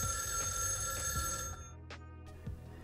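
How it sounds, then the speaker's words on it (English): A telephone bell rings in a cluttered London flat in a film scene, a bright sustained ring that cuts off and echoes, followed by soft thuds and brief shuffling in the quieter room. "a diegetic, rhythmic echoing of a ringing phone"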